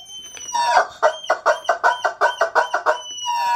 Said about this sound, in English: It's a squeeze me chicken.